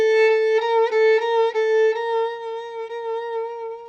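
Solo violin sustains a B flat in the Naxos style, a clear steady tone with bowed articulations and subtle pulsing ornaments over about four seconds, close and fairly loud.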